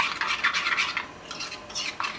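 A spoon stirs chutney for a chicken paratha roll, making a continuous close, wet scraping and swishing with rhythmic strokes and no talking.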